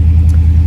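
A loud car engine idles close by with a deep, throbbing low rumble that pulses steadily throughout, strong and unbroken with no talking.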